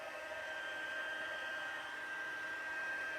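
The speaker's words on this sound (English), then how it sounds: "The heat gun, I'll give it just a few seconds to heat up a bit." A heat gun used for heat embossing blows a steady, loud whooshing hiss of hot air, unbroken for a few seconds, close by with no talking.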